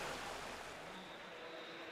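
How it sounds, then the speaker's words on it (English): A steady, continuous rush of falling water from a waterfall in the StarCraft 2 video game, constant and fairly loud with no talking over it. "why is the waterfall sound effect so much louder than everything else"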